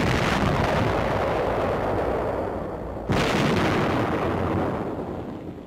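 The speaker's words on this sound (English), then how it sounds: "the gunner pushes the firing button." Firing of the 914mm Little David T21 mortar in a 1945 test, heard as a loud, broad roaring blast with a sharp second crack partway through, sustained by a long rumbling decay and no speech.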